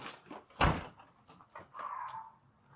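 A door is flung open on bodycam footage as a man bursts out toward a sheriff's deputy, giving one loud, sharp bang partway through, with faint scuffling around it and a tone rising afterward.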